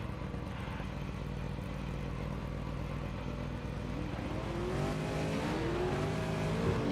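V8 race car engines in iRacing during a race at the Hungaroring, a constant distant drone of several cars with one engine rising and shifting pitch near the end.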